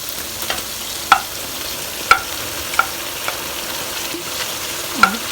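Tomatoes go into onions frying for chicken karahi, giving a steady low sizzle punctuated by several sharp clicks of a spoon against the pan as the mixture is stirred.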